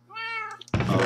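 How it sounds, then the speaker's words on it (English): A single cat meows in Minecraft, a clear, tonal in-game mew lasting under a second, followed abruptly by a burst of louder, noisier sound. "I have some very obnoxious cats."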